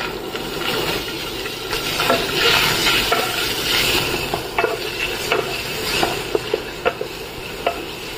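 Chopped chicken pieces fry in hot oil with ginger garlic paste in a kadai, making a loud, continuous sizzle with repeated scraping and clicking as the pieces are stirred.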